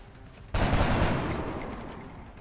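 Gunfire in the video game XCOM, a sudden loud volley that crashes in after a brief quiet moment and then rolls on as a dense crackle, slowly fading away.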